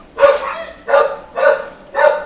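Dogs barking at neighbors walking by, four loud close barks in an even rhythm with short gaps between them.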